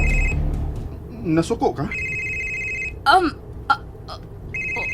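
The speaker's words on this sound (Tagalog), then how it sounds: "May nanawag sa imong cellphone." A cellphone rings in short repeated electronic bursts, loud and close, pausing while people speak between the rings.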